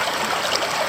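A creek runs just downstream of a waterfall in a northeast Tasmanian rainforest, giving a steady, close, broadband rush and trickle of flowing water with no voices over it.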